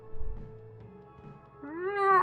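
A cat in the video game Life is Strange True Colors gives a short, rising meow that swells louder toward the end, heard clearly with no talking.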